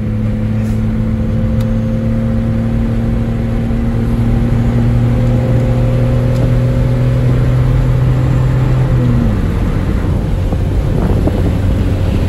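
Geo Metro small car engine droning steadily from inside the cabin, with a loud low hum that drops in pitch near the end as a gear change comes, and wind noise throughout.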